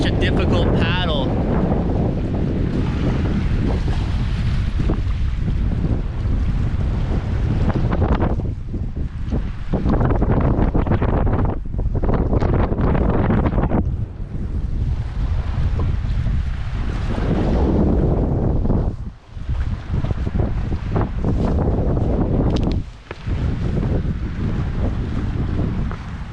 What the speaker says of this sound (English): Wind is crazy.